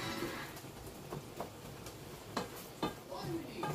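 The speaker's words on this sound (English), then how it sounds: "And now as I flip over the meat, it's a lot easier to break apart with a spoon." Ground meat frying in a pan, a low sizzle with scattered scraping and clinking as a spoon flips and breaks it apart, close and moderate, with talking in between.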